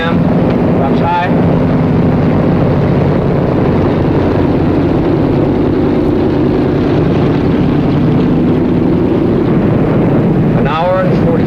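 Aircraft engines droning steadily after touchdown in a 1950 film, a loud, continuous low hum with wind-like rush, and brief voices at the start and end.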